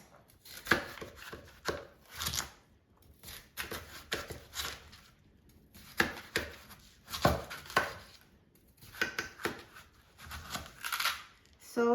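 A knife slicing through a Hami melon on a cutting surface, a series of crisp, irregular cutting strokes in clusters, close and clear with short pauses between groups, no talking.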